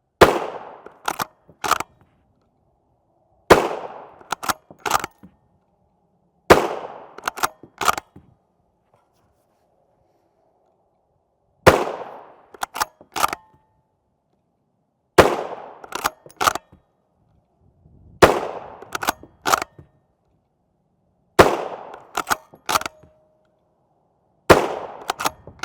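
Subsonic Winchester 350 Legend 255-grain rounds are fired from a 16-inch Ruger American rifle: sharp, fairly muted reports in quick clusters of three or four, each burst separated by a few seconds of silence.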